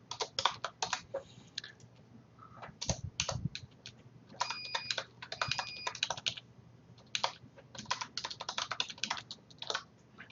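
Steady typing on a computer keyboard while writing a social media post, rapid close key clicks in uneven bursts with short pauses, and no talking.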